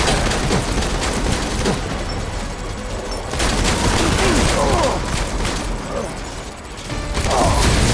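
Dense bursts of gunfire rattle through a firefight in Death Stranding, near and loud, with rapid automatic fire and overlapping shots carrying on through the whole stretch, and shouted voices mixed in.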